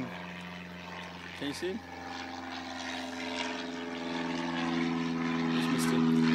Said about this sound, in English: it was an aeroplane taking off behind me